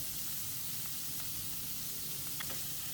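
Steak sizzles in a hot grill pan with thyme, rosemary and crushed garlic, a steady dense hiss with faint pops, close and unbroken with no talking.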